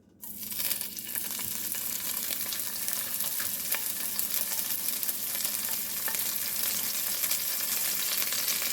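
Seasoned pork, such as hog jowl, hits a preheated pan and sizzles steadily, a close, loud, unbroken frying hiss that lasts the whole time with no talk.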